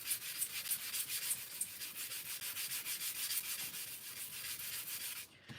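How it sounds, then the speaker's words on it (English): Hand sanding of a cup for a craft project, a rapid run of rhythmic rasping strokes, close and steady, stopping abruptly at the end. "So I'm just going to sand this down."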